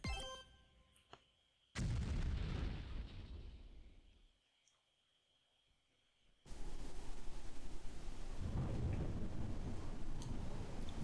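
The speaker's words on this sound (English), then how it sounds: "It was a dark and stormy night." Heavy thunder rumbles through a stormy night scene in the video game Noel The Mortal Fate, two long loud rolling blasts separated by a near-silent lull, each swelling abruptly and lingering with deep crackling decay.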